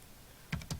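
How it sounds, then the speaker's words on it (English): A few quick clicks from a computer keyboard as dimensions are entered for a 12-inch concrete foundation wall in Revit, two short bursts near the end after a quiet stretch, close and fairly soft. "I'm just going to start typing in what we were doing before"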